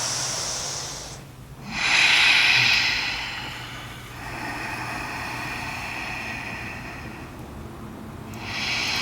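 Slow, deep breaths during a seated yoga twist with a strap, each inhale and exhale a soft, airy hiss close to the microphone.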